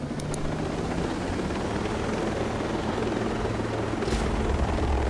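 A helicopter in the video game Ghost Recon Breakpoint drones with a steady rotor thrum and engine whine, loud and continuous throughout, with no talk over it.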